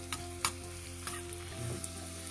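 Finely chopped garlic fries in hot ghee with a soft, steady sizzle, broken by a few sharp clicks of a spoon stirring against the pan.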